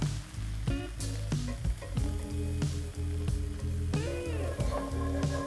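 White wine, garlic and flour sizzling loudly in a steak pan, a dense crackling fry broken by scraping and stirring clatter, steady and close without any voices.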